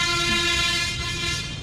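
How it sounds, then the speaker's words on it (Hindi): A vehicle horn blares in one long, steady, loud toot on a busy road, sustained for the full moment with traffic rumble underneath and no voices. "ये ले बजा रहे हैं हॉर्न"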